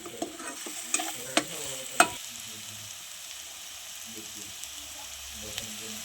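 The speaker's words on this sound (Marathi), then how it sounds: "कांदा परतून झालेला आहे आपला लालसर. आणि आपण 3 पळी तेल टाकणार आहे." Onions browning to a reddish colour in oil in a pan, with three ladles of oil added, sizzle steadily at close range, broken early by a few sharp clinks of a spoon stirring before settling into a quiet, even fry.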